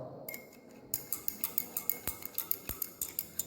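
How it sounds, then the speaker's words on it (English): A glass rod stirring salt solution in a glass beaker gives a steady run of light, rhythmic clinks and taps, close and fairly quiet, with a couple of sharper knocks. "Add some amount of NaCl, then stir it with a glass rod"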